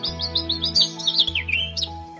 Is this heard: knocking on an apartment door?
no